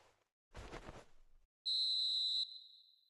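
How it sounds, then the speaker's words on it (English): A referee's whistle in the eFootball 2026 football video game, a single long, loud, steady blast at full time that fades with a short tail, following a burst of crowd noise. "Referee looks at his watch and blows his whistle."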